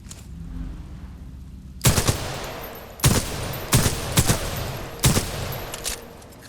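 Gunfire from a weapon in the shooter video game Titanfall 2: quiet lead-in, then six sharp, loud single shots spaced about a second apart, each with a short crack and brief decay.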